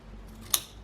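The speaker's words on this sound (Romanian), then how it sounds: "Că-l tunzi pe pinguin" Scissors give a toy penguin's hair a trim with one quick, crisp snip, close but fairly soft, standing out briefly over a quiet room hum.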